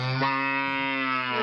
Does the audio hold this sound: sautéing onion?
no